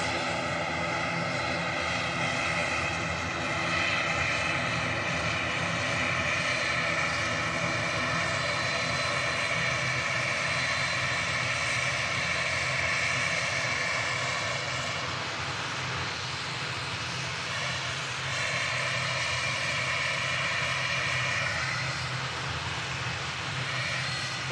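Airliner landing at Manchester Airport with a slight skid on the main gear: a steady, loud engine roar with a droning whine that holds for the whole stretch, shifting slightly in pitch partway through.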